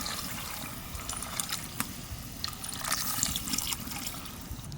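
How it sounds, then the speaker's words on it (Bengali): Water is poured onto lentils in a pot while cooking dal khichdi, a steady close trickling and splashing that keeps on without a break. "এবার ডালগুলো দিয়ে দেবো, খুব বেশি জল দেবো না।"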